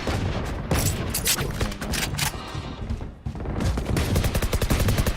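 Dense, rapid gunfire in Valorant, with overlapping bursts and heavy booming shots that continue loudly through the whole stretch.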